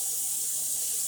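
Tap water runs steadily into a sink to rinse corn on the cob, a continuous close hiss and splash lasting the whole moment with no voices.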